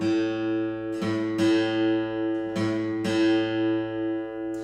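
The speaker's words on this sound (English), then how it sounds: "I should be able to compare this A with the A that's meant to play on this string when I'm not holding down any frets." A guitar string fretted to A and the open A string plucked in turn for comparison, four clear plucks with ringing, slowly decaying tones, close and alone.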